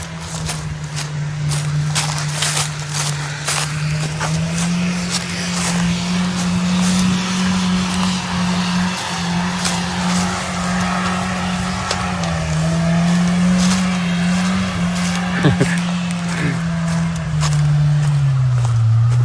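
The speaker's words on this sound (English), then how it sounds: "I can hear four-wheelers or ATV, whatever it is." ATVs or four-wheelers run along an off-road trail near a hiking path, their engines holding a steady drone that rises and falls as they move, loud and close, with no voices.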